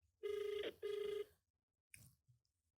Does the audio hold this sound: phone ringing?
yes